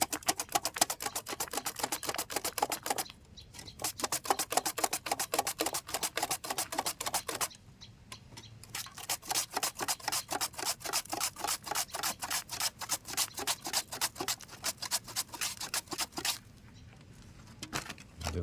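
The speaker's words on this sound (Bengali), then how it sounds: "চিপসের সাইজ মতো আলুগুলো কেটে নিচ্ছি" A knife chops potatoes into chip-sized pieces in a village kitchen, giving a fast, steady run of sharp taps that is close and loud and pauses briefly about three times.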